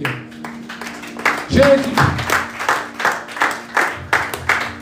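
A church congregation claps in a steady rhythm, loud and close, while a voice speaks over the applause during a French-language worship service.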